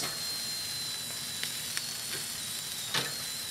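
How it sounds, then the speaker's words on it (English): Beer bratwursts sizzle over direct heat on a Grill Dome kamado, a steady close frying hiss running throughout, broken by a few soft clicks and taps. "we're going to go ahead and get our brats over some direct heat"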